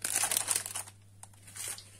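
A plastic packet of cake mix crinkles close by in a loud burst of rustling, pauses almost to silence, then gives a few softer crinkles, with no talk.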